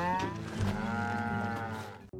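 Farm livestock at feeding time give out a long, loud moo-like bellow with a wavering pitch, close by, that fades out near the end.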